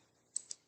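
Two sharp, close mouse clicks about 150 ms apart in a clicker game, light and bright against near silence.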